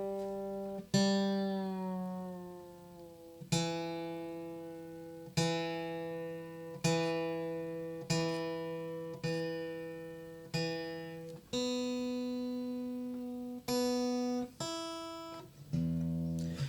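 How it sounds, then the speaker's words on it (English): Acoustic guitar with its G string tuned down to E, strings plucked one at a time and left ringing, a slow sequence of clear sustained notes, close and alone. "the G string is tuned down to an E"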